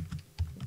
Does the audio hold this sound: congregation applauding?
no